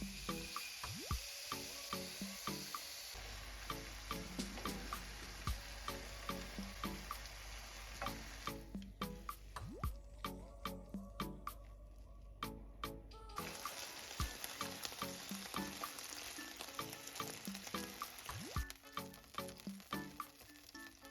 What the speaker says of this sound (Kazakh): Табаны қыздырып, тауықтың екі жағында пісіріп алатын боламыз.